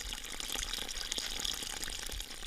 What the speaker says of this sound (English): The water flowed out, making its way to Mahadi's vast corn, eggplant, and rice plantation